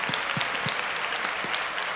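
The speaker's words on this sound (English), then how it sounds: "A round of applause." A short burst of applause from a small group, steady clapping at a moderate level with no voices.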